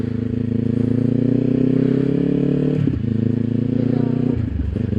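A motorcycle rolls along at low speed, its engine a steady, close drone with a brief stumble and shift in pitch near the end.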